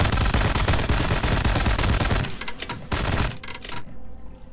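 Automatic gunfire in a video game rips out in rapid, loud, close bursts, a continuous rattling stream that thins into a few final shots and then stops.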